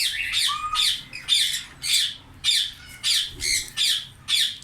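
Indian ringneck parrots squawk in a summer breeding colony, loud, harsh calls repeating in a steady rhythm about twice a second, close and prominent.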